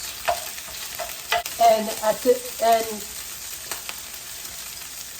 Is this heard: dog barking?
no